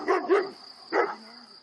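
Rosa, an eight-month-old female Patou (Pyrenean mountain dog) guarding sheep and donkeys on a farm, gives two quick barks and then a third, loud and close.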